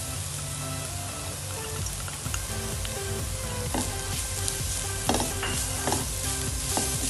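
Onions sauté in a hot pan with a continuous close sizzle, broken by scraping, clattering stirs from a utensil and faint tonal music in the background.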